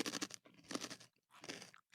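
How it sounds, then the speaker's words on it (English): Crackers topped with dill mayo being chewed close to the mic, quiet crunching in three short bursts with brief pauses between. "sorry for the chewing sounds"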